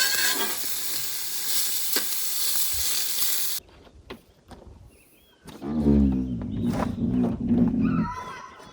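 Sausage mixed with potatoes sizzles in a pan at a campsite, giving a dense, hissing crackle that cuts out abruptly, followed by scattered clatter and outdoor noise.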